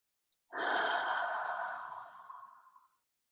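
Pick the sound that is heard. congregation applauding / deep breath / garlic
deep breath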